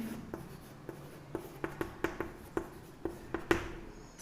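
Chalk or marker tapping and scratching on a board during a polynomial long division, a series of about ten short sharp strokes in an irregular rhythm, close and clear with no talking.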